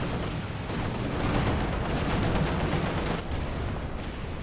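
A ZiS gun artillery barrage in a tank combat video game: a steady rumble of overlapping gunfire and blasts, continuous and fairly loud, with no distinct gaps between shots.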